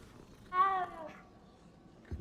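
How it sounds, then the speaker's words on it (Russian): A cat meows once in the video game Hogwarts Legacy, a single short clear mew rising and falling over a quiet background, followed by a faint brief sound near the end. "Как-то мяукают они ненатуральные, эти котики."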